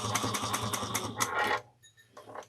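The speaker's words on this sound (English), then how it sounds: "I'm just going to back stitch" A sewing machine back stitching through fabric with a fast, loud mechanical rattle that stops abruptly partway through, followed by a brief quieter whir.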